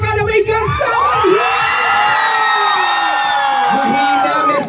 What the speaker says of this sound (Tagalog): Palakasan ng palakpakan na.